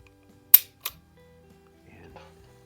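Trigger break and hammer fall on a Smith & Wesson Model 10-5 revolver, a Bill Davis PPC special: one sharp, loud snap followed a moment later by a second softer click, with faint low rustling afterward.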